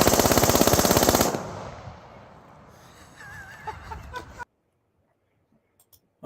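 A 9 mm firearm rips through a rapid 33-round burst, loud and close, the shots running together for about a second before a noisy tail, a few faint chirps and then near silence.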